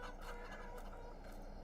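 Chickens clucking and gobbling in the Farming Simulator 22 game on a snowy farm, a steady flock chatter under a constant low ambient hum, with no voices.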